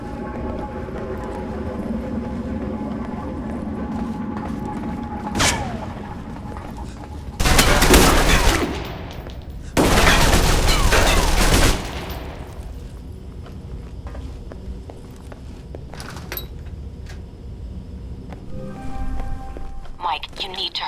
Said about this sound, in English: It sounds like Marburg's men are attacking the security guards.